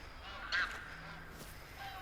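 Wild waterfowl in theHunter: Call of the Wild on the Revontuli Coast, with a single faint honking call standing out briefly against a soft outdoor ambience, distant rather than close.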